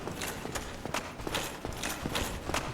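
Footsteps in Dark Souls ring out as a series of sharp, evenly spaced clacks, fairly close and distinct over a low rumbling ambient bed, with no talk.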